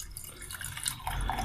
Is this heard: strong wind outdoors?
no